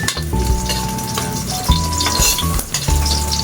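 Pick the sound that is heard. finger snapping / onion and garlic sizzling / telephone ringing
onion and garlic sizzling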